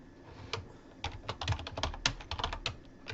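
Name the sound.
typing on a computer keyboard to change label text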